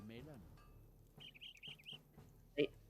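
A bird whistles in a Lord of the Rings Online game scene, a wavering run of high chirping notes at moderate distance, followed by a short sharp call, with a brief voice sound at the start.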